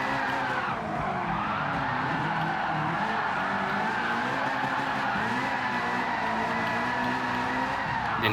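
A TVR with a swapped LT5 V8 drifts in Gran Turismo 7, its tires skidding in a long continuous squeal over a loud, steady engine drone that holds close for the whole stretch.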